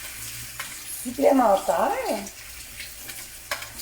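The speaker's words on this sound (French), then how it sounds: "Là, je vais reprendre ma cuillère de bois pour le bœuf." Ground beef frying in a pan with a soft background sizzle, stirred with a wooden spoon in light scraping strokes, while a voice speaks briefly in the middle.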